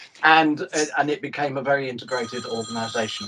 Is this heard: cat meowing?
no